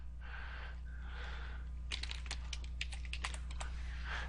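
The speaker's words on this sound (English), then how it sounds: "If I type some text in here" Bursts of rapid keystrokes on a computer keyboard as text is entered into a web form, sharp clustered clicks after a couple of soft breaths, close and fairly loud with no talking.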